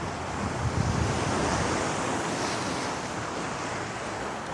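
Ocean waves roll steadily onto a beach, a continuous broad wash of surf with some wind noise buffeting the microphone, no voices present.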